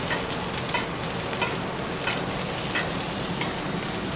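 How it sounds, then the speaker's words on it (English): A ribeye steak sizzles steadily in a hot pan as it is spoon-basted, with a constant frying hiss and small scattered crackles and pops close up. "we're just gonna baste so that we have flavor, more flavor onto the steak"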